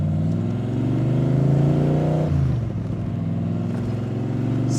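A 1965 Shelby Cobra replica built by Backdraft revs its engine hard and close, a loud rumbling note that rises, dips sharply midway, then settles back into a steady throaty idle-to-rev roar.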